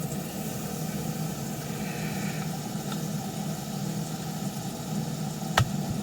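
Steady low engine drone and road rumble from a van being driven, holding an even level throughout with a brief sharp knock near the end.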